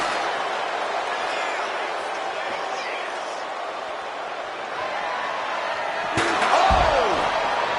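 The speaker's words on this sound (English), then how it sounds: "Good Lord, brutally swinging that steel chair." A steel chair slams down hard in a WWE 2K26 ambulance match, one loud sharp impact near the end ringing briefly over a steady murmuring arena crowd.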